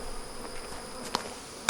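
Honey bees buzz faintly and continuously around an open hive, with a couple of sharp clicks or knocks from the hive boxes cutting through the low hum.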